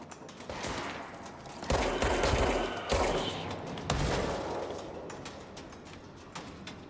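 Video game gunfire with bursts of rapid shots and heavy blasts between about 1.7 and 4 seconds, loud and close over a busy background of combat noise.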